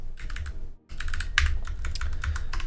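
Fingers type on a computer keyboard in quick, irregular bursts of clicks, close and moderately soft, with a brief pause before the tapping resumes.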